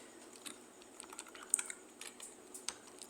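Fast, uneven keystrokes on a computer keyboard as a command is typed into a terminal, a quick run of close, light clicks alone at low level.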